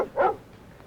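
A single short dog bark, close and fairly loud, followed by a quiet room tone.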